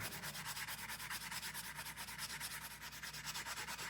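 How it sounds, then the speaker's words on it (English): A hammered wire jewelry component is buffed, a close, steady scrubbing rub with a quick even rhythm that continues throughout. "I'm going to buff this."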